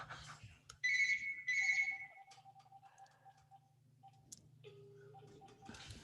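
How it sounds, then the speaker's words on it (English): A phone rings in a quiet office, a few bright electronic tone bursts followed by softer repeating beeps, fairly faint with no talking. "My phone has never rung here in the office because I'm an online business guy. Now it's ringing."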